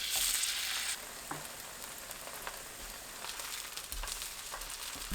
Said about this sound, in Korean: 팬에 식용유 두르고 예열합니다. 중불로 낮추고 반죽을 둥글납작하게 올려주세요.